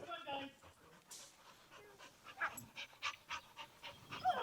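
Several dogs pant in rapid bursts at close range, with people talking over them throughout.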